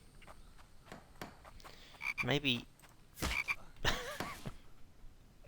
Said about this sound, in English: I feel so bad for the frog